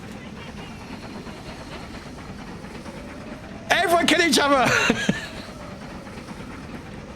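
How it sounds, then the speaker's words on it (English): A loud train rumbles and hisses steadily in an online multiplayer video game, a constant roar of wheels and steam under a burst of overlapping voices shouting midway. "I cannot hear anybody while the train's going. It's so loud."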